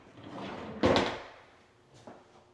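A drawer slides open with a short wooden scrape and thump in a quiet walk-in closet, followed by a fainter second knock.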